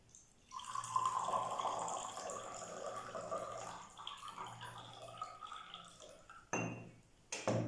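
Water from a salt-water mixture trickles and splashes as it is poured off in a decantation, a steady close liquid flow with small drips, then a couple of brief louder splashes near the end.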